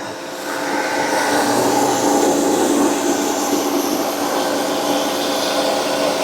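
A rice milling machine's fan blows out hard, a loud steady rushing whoosh with a whining mechanical drone that holds at a constant level after starting up, with no voices.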